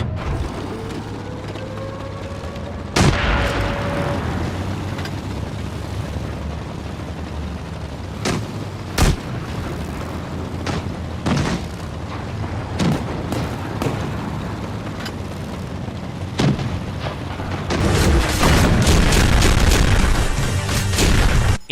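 Tank battle in World of Tanks, a multiplayer online war game, with heavy cannon booms and explosions hitting at irregular intervals over rumbling engines and clanking mechanisms, building into a dense, loud barrage near the end.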